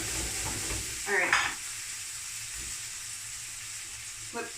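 Toast and very fatty lardons fry in a greasy pan with a steady, close sizzle, broken by a brief scrape as pieces are flipped and a soft voice in the background.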